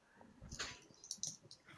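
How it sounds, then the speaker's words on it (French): A dog bursts in making a racket, with scrabbling, thumps and short sharp noises in a brief, busy burst, fairly close in a domestic room. "j'ai mon chien qui débarque en mode je fais du boucan"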